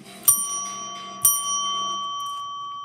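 A bright bell struck twice about a second apart, each ring starting with a sharp ding and leaving a long sustained tone that fades slowly, fairly close and alone.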